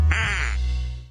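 A single nasal duck quack rings out as a sound effect in a radio advertisement, loud and close, trailing off over about a second.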